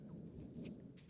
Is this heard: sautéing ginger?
no